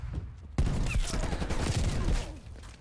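Hand cannon gunfire in a video game, a loud dense burst of repeated shots erupting after a quieter lead-in and continuing steadily to the end, with faint in-game noise beneath.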